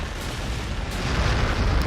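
A shot fired at an orc unit in Warhammer 40,000: Gladius, a loud booming blast with rumbling noise that sustains for nearly two seconds.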